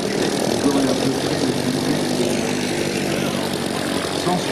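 A Junkers Ju 52 passes overhead with its propeller engines droning, a steady, loud, dense roar holding constant throughout.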